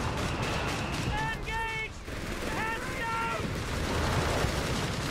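Machine-gun bursts crackle through a Company of Heroes 3 match, dense battle noise with whistling tones over it, while a commentator talks throughout.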